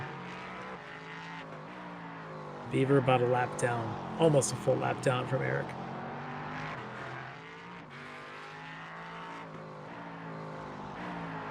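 Race cars lapping Circuit of the Americas in a sim racing game, engines droning steadily under continuous commentary, with a louder burst of revving and passing roughly midway through.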